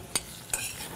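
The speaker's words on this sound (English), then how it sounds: "I'm doing no more, no less than just gently searing my lobster with my canola and vanilla bean oil" Lobster sears gently in canola and vanilla bean oil, giving a soft, quiet sizzle broken by two brief bright scraping clicks, like a utensil moving in the pan.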